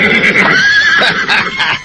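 Horse whinnying loudly and close in an Indonesian radio drama after the animal stumbles and falls, one long shrill neigh spanning nearly two seconds, with a faint clatter of hooves underneath.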